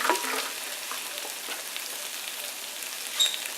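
Pork chops sizzling on a smoker grill, a soft crackling hiss with scattered pops, fairly quiet and steady, with no one talking over it.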